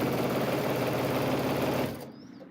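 A sewing machine stitches quilt fabric in a steady, fast, loud whir that runs continuously for about two seconds before stopping abruptly.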